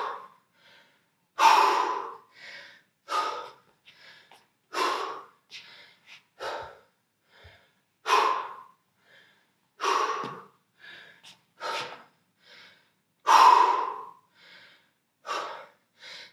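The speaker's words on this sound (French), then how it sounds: "On respire." Deep, forceful breaths during a home workout, about a dozen loud, rhythmic inhales and exhales with short pauses between them and no talking.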